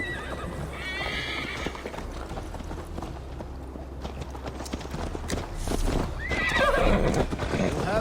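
A horse whinnies and clip-clops across rough ground in Assassin's Creed Valhalla, its hooves and neighs close over a steady backdrop of game ambience, with a swell of movement near the end.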